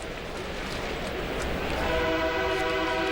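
Train horn from a train passing behind the right field stands of Safeco Field during a Cubs at Mariners baseball game, a sustained tonal blast over steady crowd and stadium ambience, moderately distant.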